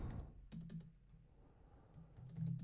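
Keys tapped on a computer keyboard during writing, arriving in short irregular bursts with brief pauses between them, close and fairly quiet, with no voices.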